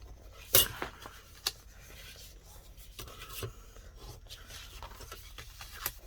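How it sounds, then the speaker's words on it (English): The edge of a paper box lid is burnished with a tool, giving quiet rubbing and scraping strokes with a couple of sharper taps, faint and close. "So all you need to do now is just burnish the edge."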